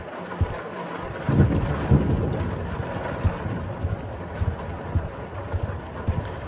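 A thunderstorm rages in the horror game Suffer the Night, with rumbling thunder swells and scattered sharp cracks over a steady wash of rain, no talking.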